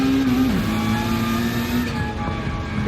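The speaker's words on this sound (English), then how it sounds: "revving the nuts out of this Peugeot RC Z Group 3" A Peugeot RCZ Group 3 race car revs hard with a loud, steady engine drone, its pitch dipping briefly as it shifts, then holding a sustained high-rev howl.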